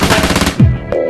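A KRISS Super V fires a rapid full-auto burst, loud and close, in a brief one-second clip.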